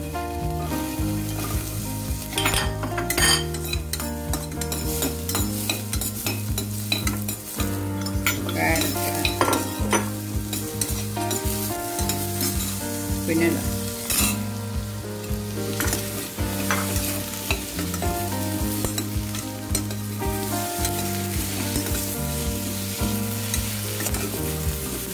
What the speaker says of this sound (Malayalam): സവാള, ബദാം, വെളുത്തുള്ളി എല്ലാം വറക്കാം.